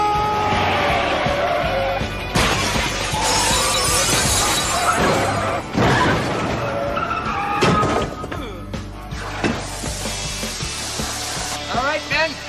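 A big plate glass window shatters in a comedy scene, with several loud crashing bursts of breaking glass amid busy background noise and brief voices, the impacts sharp and close.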